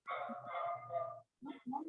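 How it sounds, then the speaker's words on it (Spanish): A dog barks nearby: a drawn-out yelping bark followed by two short sharp barks after a brief pause, loud and close with no talk over it. "Ay, Dios mío, el perro de aquí"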